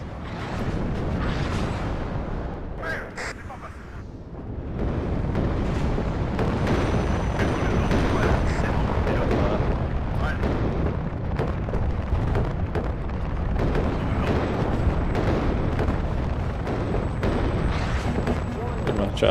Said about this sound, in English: Artillery.